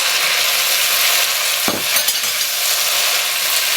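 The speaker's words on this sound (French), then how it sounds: "J'ajoute mes choux-fleurs." Cauliflower florets tipped into a pan of sizzling vegetables with raisins, a steady loud frying hiss broken by a sudden clatter as they land, then stirring.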